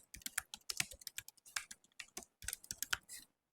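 Rapid bursts of computer keyboard typing as an address is entered, close and crisp keystrokes in uneven clusters separated by short pauses.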